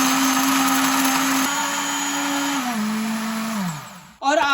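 A blender grinds pomegranate seeds with water, a loud, steady whirring drone that slows and drops in pitch before cutting out and briefly restarting.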